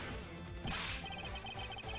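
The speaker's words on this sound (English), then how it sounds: "the hallway mirror was broken" A hallway mirror shatters in the video game Ace Attorney Investigations: a single short, bright crash of breaking glass bursts out over steady, sustained background game music.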